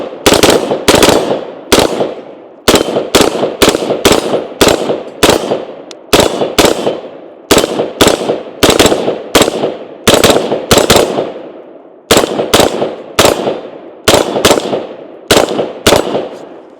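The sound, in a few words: Sig M400 SDI Series X rifle firing shots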